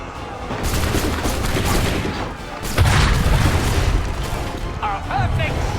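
A booming cannon shot from the Assassin's Creed III video game rolls through dense battle noise, with rumbling explosions and crackling gunfire layered under shouting voices throughout.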